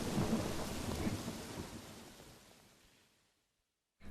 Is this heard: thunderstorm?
yes